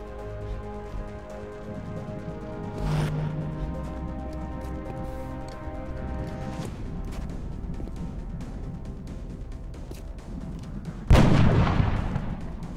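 Gunfire in the turn-based XCOM video game. A sharp shot stands out early, and a louder blast with a crashing tail comes near the end, all over a steady rumbling game background.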